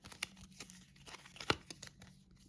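A small deck of six game cards is shuffled by hand, giving quiet papery crinkles and scrapes with one sharper snap in the middle, close and soft, with no speech.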